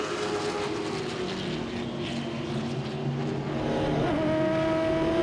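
Late model stock cars racing door to door down the back straightaway at Langley Speedway, a loud continuous engine roar from several cars at once, steady and close with slowly shifting pitch.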